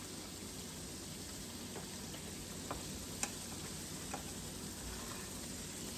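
Battered, self-breading fried chicken with a cornstarch-thickened crust sizzles steadily in a frying pan. The hiss is constant and even, with a few faint ticks and pops.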